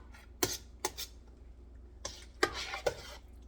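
A spoon scrapes and clanks against a pot of meaty homemade spaghetti sauce, giving several sharp knocks in two short bursts with quiet gaps between.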